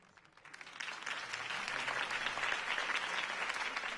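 Crowd applause at a mayoral campaign rally for Harvey Dent in the Telltale Batman video game. It starts quietly, swells within half a second into dense, sustained clapping and holds steady throughout.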